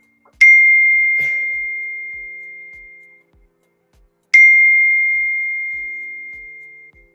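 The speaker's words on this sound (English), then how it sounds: "Close the notification." A phone notification chime rings twice, each a single clear bell-like ding that lingers and slowly fades, spaced several seconds apart in an otherwise quiet room.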